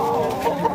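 Roosters cluck loudly and close up at a busy poultry market, the clucking steady and overlapping with a couple of sharper accents and no clear speech.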